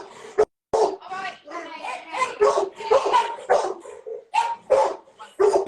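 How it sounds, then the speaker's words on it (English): Big dogs bark and yip in short bursts close by, mixed with a person talking over them. "You got some big dogs, man. Those are some big dogs."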